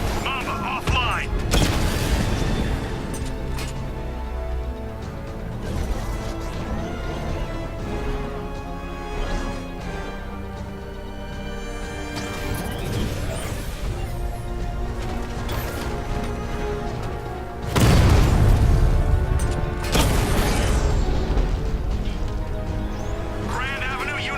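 Explosive destruction of an enemy unit in Batman: Arkham Knight, loud crashing booms over dense game music and effects, with a heavy blast surge near the end; voices talk over it.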